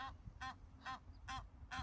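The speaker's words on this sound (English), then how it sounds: "There's different packs of families of birds that are out here" Geese honking outdoors, five evenly spaced nasal calls repeating at a steady rhythm, fairly faint and distant over a low background rumble.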